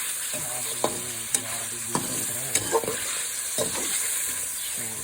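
Mutton and basmati rice frying for gosht pallao, with a steady close sizzle broken by a few sharp scrapes and knocks as the pot is stirred.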